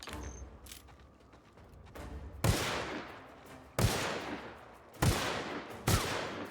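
Gunfire in the video game The Outer Worlds: four loud, sharp shots spaced roughly a second apart, each ringing out with a decaying tail over a low background murmur.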